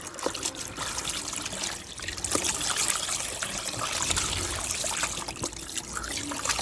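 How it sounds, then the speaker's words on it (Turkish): Running water trickles and splashes over beef tripe being washed by hand, a steady close gush with intermittent sloshes and drips, no talking. "bunu birkaç su iyicene yıkayalım lütfen"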